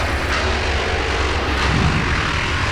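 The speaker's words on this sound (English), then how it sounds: "With only 2 hits on the throttle. That's Nitro." A nitro funny car drag-racing engine at North Star Dragway in 2019 roars with a dense, harsh blast, and two sharp throttle hits surge out of the continuous loud rumble.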